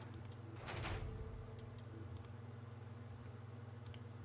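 Sparse, faint clicks of a computer keyboard come in small scattered bursts while a Mass Effect Andromeda game is played, over a quiet background hum.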